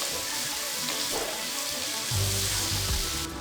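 Eggplant curry sizzles and fries steadily in a pan while it is stirred, with a continuous close hiss and a brief scraping shift near the end.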